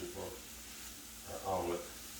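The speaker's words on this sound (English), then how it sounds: "Let's stir these vegetables up a little bit." Vegetables sizzle in a hot pan for an omelette as they are stirred, giving a soft, steady frying hiss. Brief scraping and stirring swells can be heard nearby, and a voice speaks faintly underneath.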